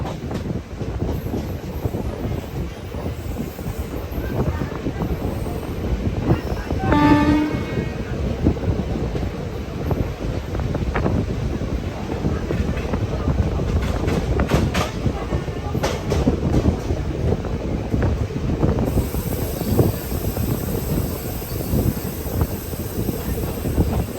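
A train rolls into Muthalamada railway station in Kerala, its steady rumble and rail clatter continuous and close throughout, with a brief horn-like tone partway through and no talking.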